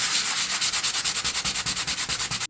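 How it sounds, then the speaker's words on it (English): Fine 150 grit sandpaper rubs lightly over a patched wall in quick, even back-and-forth strokes, a rhythmic scratchy swish repeated about twenty times, close and alone. "So this is 150 grit sandpaper, and just, lightly sand it there."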